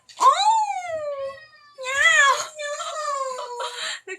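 A cat named Salem meows insistently for food indoors, three long drawn-out wailing cries with falling pitch, close and loud, separated by short pauses.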